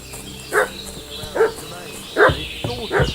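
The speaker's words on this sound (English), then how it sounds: "What's that dog making such a fuss about?" A dog in the medieval village of Kingdom Come: Deliverance 2 barks four times, evenly spaced and fairly close, each bark short and sharp over quiet ambient background.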